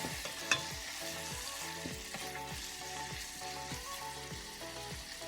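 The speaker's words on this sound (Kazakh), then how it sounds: "Ең әуелі пиязымызды жақсылап қуырып аламыз." Onions frying in a pan, a steady soft sizzle with occasional stirring scrapes and a faint rhythmic tapping underneath.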